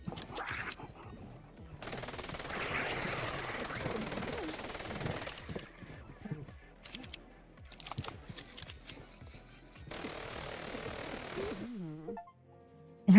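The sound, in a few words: gunfire shooting at a target in a video game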